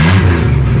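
A rusty 1997 Pontiac Grand Prix GTP two-door coupe runs smoothly, its engine holding a loud, steady, close-up hum with no talking.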